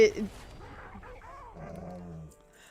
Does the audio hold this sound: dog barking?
yes